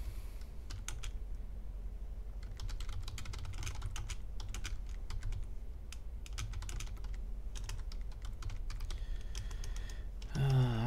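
Steady typing on a European-layout SteelSeries computer keyboard, a continuous close run of key clicks and clacks with no voices.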